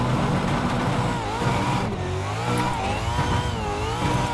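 The number 5 Tickford Racing Supercar climbs a hill under hard acceleration, its engine roaring loud and continuous with rising and falling pitch through gear changes.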